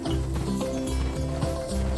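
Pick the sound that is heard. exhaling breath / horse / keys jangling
horse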